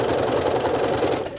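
A sewing machine stitching fabric, a steady rapid mechanical whir running continuously and loud throughout.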